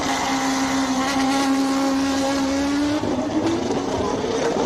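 Lotus Ferrari race car launching off the line at the Simola hill climb, its engine note climbing steadily and shifting up once as it pulls away, loud and continuous with crowd ambience behind.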